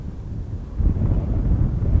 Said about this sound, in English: now it was accompanied by a pretty nasty north wind